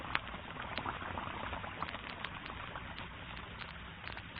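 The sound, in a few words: Lux soap flakes dissolving into bubbling suds in water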